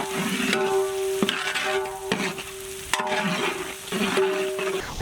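Vegetables such as capsicum and green peas frying in oil: a crackling sizzle with stirring scrapes, plus a recurring steady hum underneath.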